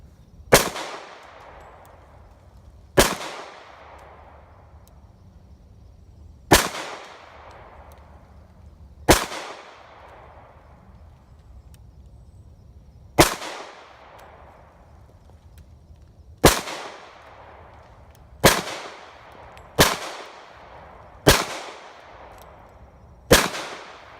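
Ruger American Pistol firing .45 ACP rounds outdoors, ten sharp, loud reports spaced a few seconds apart with short decaying tails, faster near the end, with no talking.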